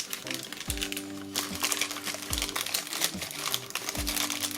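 Crinkly plastic packets holding 3D nail art silicone molds being cut open, close crackling and crumpling with a few sharp snips and clicks, fairly loud and alone.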